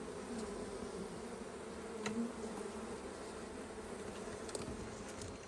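Bees swarm around a hollow tree trunk during a hive rescue, producing a steady, dense buzzing drone with a few individual insects flying close past the microphone.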